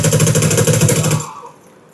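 Rapid automatic gunfire from a video game rattles in a dense, steady burst for just over a second, then cuts off to near silence.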